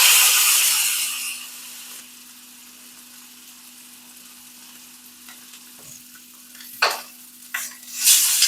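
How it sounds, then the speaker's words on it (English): Meat searing in hot, browned butter in a hot pan gives a steady, close sizzle that quiets down midway, then rises again in sharp bursts of spattering. "to get a good caramel and sear on the meat, you want to make sure the butter is hot and the pan is hot"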